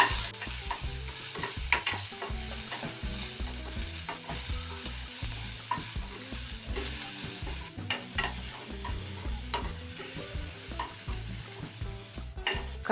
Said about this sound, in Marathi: कांदा घालायचा आहे बारीक चिरलेला, कांदा थोडासा तेलात आपल्याला परतून घ्यायचा आहे मऊ होईपर्यंत।